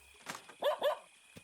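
A dog in the video game Lovecraft Country gives two quick, close barks, a short yip before them and a faint one after, clear against a quiet game background.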